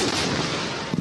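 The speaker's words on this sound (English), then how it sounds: "He was responding to a question when he recorded the second explosion." A city explosion heard on a played recording booms as a dense, continuous rumbling blast that fills the whole second.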